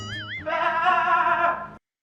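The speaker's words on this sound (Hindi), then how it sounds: "बकरा आ गया" A goat gives one loud, drawn-out bleat with a wavering tone, close by, ending abruptly after a short lead-in sound.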